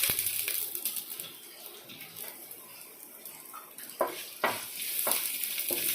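About six cloves of crushed garlic frying in oil in a pan for tomato thokku, with a steady soft sizzle, a few stirring scrapes and sharper clinks near the end, close by with no talk.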